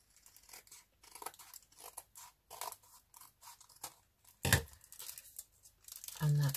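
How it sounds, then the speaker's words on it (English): Scissors cutting a thin sliver of paper from a page of an altered book, a string of soft snipping and crinkling sounds, quiet and close, ending in a louder paper rustle. "so we need to cut the slither off here"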